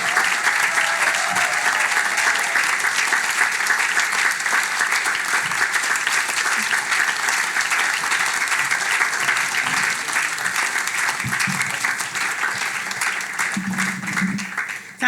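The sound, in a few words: audience applause welcoming keynote speaker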